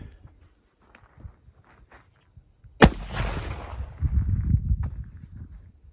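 A single loud, sharp report from a Model Army black powder revolver fitted with a .45 Colt conversion cylinder, loaded with 25 grains of 3F Swiss powder, card and lubed felt wads, and a 250 grain lead round nose bullet, followed by a lingering rumble and shuffling.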